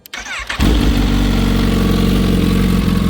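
A Kawasaki ZH2 motorcycle fitted with a Turbo Smart blow-off valve cranks briefly, then fires and settles into a loud, steady, close idle that holds evenly to the end.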